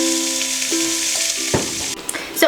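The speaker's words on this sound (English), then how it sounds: "I'm gonna wait for those sausages to finish cooking, give them a couple flips" Sausages fry in a hot pan for a jambalaya, with a steady broadband sizzle throughout and a few sharp clatters near the end as they are stirred or flipped. Faint tonal hum runs underneath.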